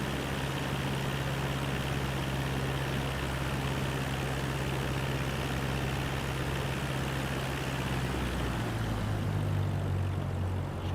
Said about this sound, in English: Cut the engine way down to nothing as we're gliding down.